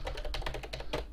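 Typing on a computer keyboard, with a rapid, uneven run of light plastic key clicks close by and a couple of heavier strokes, all without speech.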